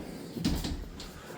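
A modest-quality linen closet door opening upstairs in a house, with a brief creak and knock in the middle of quiet room tone, close by.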